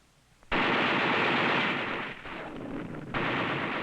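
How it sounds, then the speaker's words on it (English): A mortar round fires in a war in Laos, a sudden loud bang that breaks into a sustained roaring rumble lasting several seconds, with no voices. "The mortar round makes a big bang."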